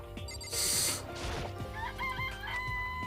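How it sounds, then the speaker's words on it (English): Chicken from the video game Danganronpa: Trigger Happy Havoc clucking and crowing, a loud burst early on followed by shorter calls over steady game background music. "It's a chicken."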